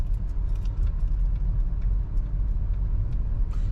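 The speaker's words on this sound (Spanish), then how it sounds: "Y hay mucho carro, mucho carro." Morning car traffic passes on a road lined with mangroves near Playa del Carmen, making a close, steady low rumble with light rattling on top.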